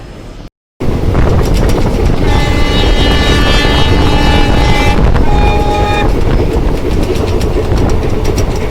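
A train rolling along the rails during a stop on a Hyderabad to Goa journey, with coaches being attached, gives a loud, steady rumble and rattle throughout, joined by sustained squealing metallic tones in the middle.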